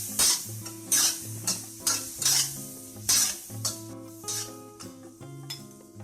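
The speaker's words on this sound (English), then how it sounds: "we put the egg into Sponged-Gourd, then stir-fry them together for 1 or 2 minutes" Sponge gourd (luffa) and egg stir-fried in a wok: a steady sizzle runs under repeated scraping strokes of a spatula against the metal, about one sharp scrape per second, close and fairly loud, with no voices.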